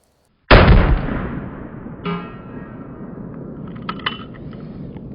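A .22 Magnum round from a Ruger Super Wrangler revolver hits a 2-liter bottle and bursts it: one sharp, loud outdoor crack and boom with a long fading rumble, then scattered faint clinks.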